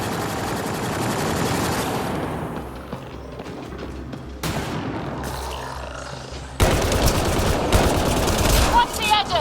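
Gunfire in the video game Mass Effect Andromeda against Remnant enemies, with bursts of rapid automatic shots and heavy booms, loud and close, building to a dense barrage near the end.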